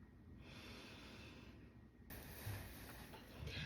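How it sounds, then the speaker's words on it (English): A slow, deep breath during a diaphragmatic breathing yoga session, a soft airy inhale followed by a fuller exhale, close and quiet with no talking. "Take one more deep breath here."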